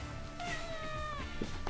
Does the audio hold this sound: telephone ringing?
no